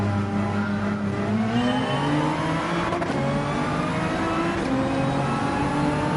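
A heavy Canadian-flagged race car in Gran Turismo 7 drones and revs steadily, its engine pitch climbing and dropping through gear changes in a continuous, loud whine.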